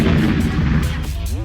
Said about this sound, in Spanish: Y luego de esa gran explosión,